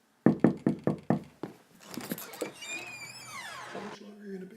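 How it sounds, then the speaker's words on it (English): Five sharp knocks on a door in a quick, even rhythm, close and loud, followed by a person talking. "If someone knocks on the door"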